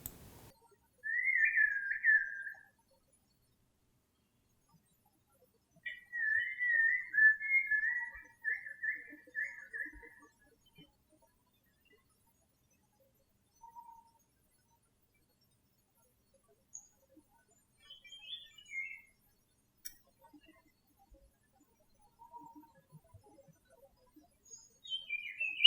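Songbird singing a mimicking song, brief high whistled phrases separated by long silences, one clear bursting phrase, then a longer warbled run, with fainter scattered notes afterward.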